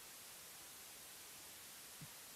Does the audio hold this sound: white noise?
yes